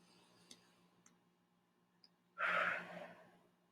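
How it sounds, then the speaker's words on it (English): A single deep, close breath, a long breathy exhale that swells suddenly after a near-silent stretch with a few faint ticks, then trails off. "And I want you to take deep breaths."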